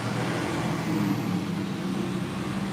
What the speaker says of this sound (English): Everybody want to be loud with their trucks now.